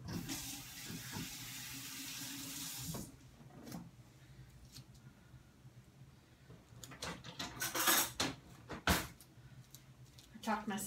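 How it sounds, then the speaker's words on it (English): Tap water gushes steadily into a kitchen sink for several seconds while hands are washed during freezer-meal cooking, then stops. Clatter and knocks follow, with a voice speaking nearby. "I am going to wash my hands though."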